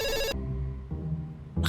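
A telephone rings in a French drama, one burst of bright electronic ringing, a quiet gap with low room hum, then the ring starting again, close and clear.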